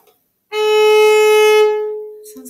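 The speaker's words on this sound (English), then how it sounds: "So, and this is a viola. So here's my A string." A single bowed viola note on the A string rings out steady and clear for about a second and a half, then fades, with a brief murmur at the end.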